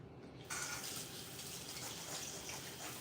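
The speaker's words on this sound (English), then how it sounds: "I'm gonna wash my hands." Water from a kitchen tap gushes into a sink for handwashing, switching on abruptly and then running in a steady, close hiss without any talk.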